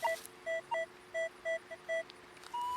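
Metal detector signal tones sounding over a buried coin at an old home site: a series of short, evenly spaced electronic beeps, close and clear, over faint outdoor background and ending in a longer rising tone.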